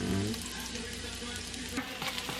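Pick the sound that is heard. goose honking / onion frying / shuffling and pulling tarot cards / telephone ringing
onion frying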